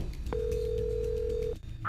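A telephone call tone placed to Cristiano Ronaldo: one steady electronic tone holds for about a second over a low background hum, then cuts off abruptly, and a short voice-like sound follows at the end.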